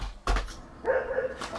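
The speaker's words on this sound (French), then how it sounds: "dans un clip, il y a un chien qui aboie" A dog, apparently in a music video, gives two short sharp barks a moment apart, the second followed by a brief whine, with faint music in the background.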